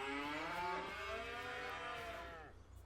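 A Highland cow in a field gives one long, loud, drawn-out moo that starts at once and holds for over two seconds before tapering off.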